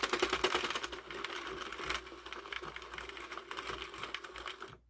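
A Sentro 40 pin knitting machine cranked steadily as a finished fingerless glove is spun off, a dense clattering rattle of plastic pins and needles that runs for a few seconds without speech.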